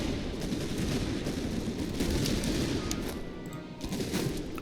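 Musket volley fire in Master of Command, with Grenzer recruits and Freikorps musketeers trading shots, making a dense, continuous crackle of many shots at battle distance, steady and loud without talk.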